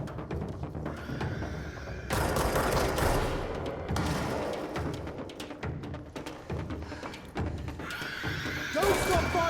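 Gunfire in the video game Control: bursts of shots run throughout amid dense action noise, loud and close, with a voice calling out over it.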